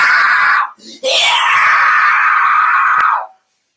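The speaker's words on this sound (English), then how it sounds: "God, I love doing metal screams on trolls." A man's harsh, distorted metal-style scream aimed at trolls, one long loud roar that breaks briefly near the start and then holds for over two seconds before cutting off.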